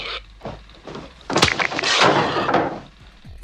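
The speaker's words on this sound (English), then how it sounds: "The scene ends with Leatherface slamming the door" A heavy door is slammed hard by Leatherface in a horror film, a loud wooden bang after a few softer knocks and scrapes, followed by a brief rumbling tail.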